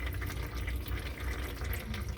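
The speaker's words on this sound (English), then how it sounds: "Nope, she got to drip more than that." Transmission fluid draining from a 2017 Toyota Tacoma TRD during a fluid change, heard as a steady close liquid trickle and splatter into a catch pan, continuous with no voices.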